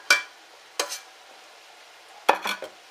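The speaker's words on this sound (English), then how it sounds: "Take your onions and peppers, throw it into the pot." Chopped onions and peppers are tossed into a hot pot for Spanish rice, giving a few short, crisp bursts of sizzle and clatter separated by quiet gaps.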